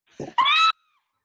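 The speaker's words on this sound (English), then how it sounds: "Ah Toy shrieks." A woman gives one short, sharp high shriek, preceded by a quick breathy vocal onset, then stops abruptly into silence.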